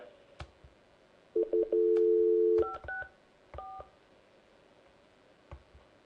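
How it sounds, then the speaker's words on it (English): Telephone keypad tones as a number is dialed to a police department, with a longer steady tone followed by several short beeps, clear and close over faint background hiss and a few clicks. "I'm going to try to dial directly over to the police department now."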